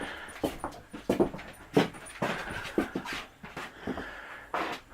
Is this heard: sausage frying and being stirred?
no